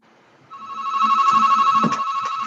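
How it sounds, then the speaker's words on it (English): A telephone rings during an online committee meeting, a steady electronic ringtone swelling from faint to loud and held continuously. "somebody should answer their phone"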